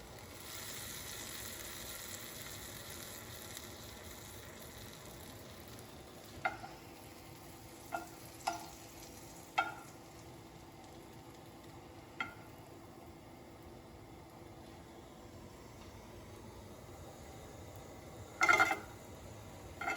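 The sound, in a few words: apple cider donuts toasting in a pan with seasonings and sugar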